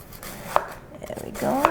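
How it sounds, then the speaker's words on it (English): A knife cuts corned beef into short slices on a board, two crisp chopping taps about a second apart, close and clear over faint background. "So I'm cutting these like short slices like this."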